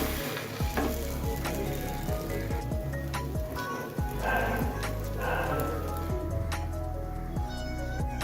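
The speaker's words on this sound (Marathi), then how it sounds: "थोडं तेल घालून घेतो इथं। तवा तापलेला आहे" Sweet potato thalipeeth frying in oil on a hot tawa over low gas, a close, continuous crackling sizzle with scattered pops and occasional soft scraping throughout.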